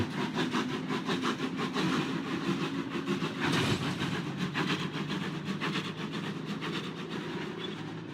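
A steam engine train on icy tracks, with a steady, loud rumbling roar and a rapid pulsing chug throughout, heard close and with no talking.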